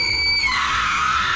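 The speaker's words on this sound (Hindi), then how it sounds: "वो भी एक चीखने की आवाज के साथ।" A shrill, sustained scream used as a sound effect in a Hindi horror story narration, piercing and loud, sliding in pitch midway and holding for over a second with no talking.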